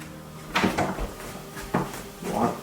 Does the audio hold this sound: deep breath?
no